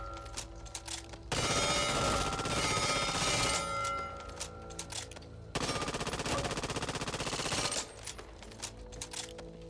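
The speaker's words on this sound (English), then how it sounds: "we're going to start off with the Uzi, which is a rapid firing SMG with pretty decent accuracy" An Uzi submachine gun in the shooter Back 4 Blood fires in two long rapid bursts, loud and dense, separated by a pause with faint mechanical handling sounds between and after.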